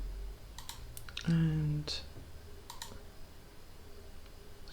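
A computer mouse clicks a few times, sharp and close, while a 3D print is designed at a desk; a brief voice and a low hum sit underneath.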